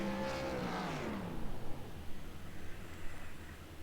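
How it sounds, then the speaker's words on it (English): A winning race car does a burnout, its engine revving under a broad roaring hiss of tyres burning rubber that swells and pulses, heard at some distance and moderately loud. "There's the burning of the rubber we love to see from our race winner"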